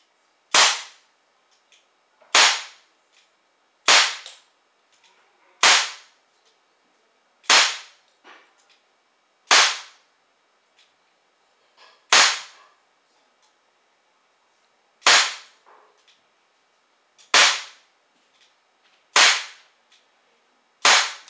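An ASG STI Off Duty CO2 airsoft pistol fires about ten sharp, loud single shots at uneven intervals of roughly two seconds, with quiet gaps between them and no talking.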